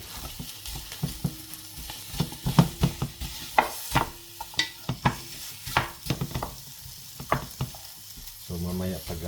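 Chicken pieces sauté with ginger in a pan for arroz caldo, giving a steady close sizzle broken by repeated sharp clacks and scrapes of a utensil stirring against the pan, with no talk.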